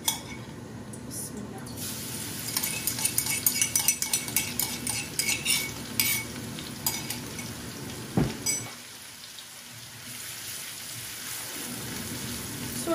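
Eggplant curry with dried fish being stirred in a generous amount of oil, with metal utensils clinking and scraping against the pot over a steady sizzle, busy at first and then quieter toward the end.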